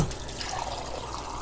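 Water pouring steadily into a pot of dried beans with stock, a continuous close splashing and gurgling stream without pauses.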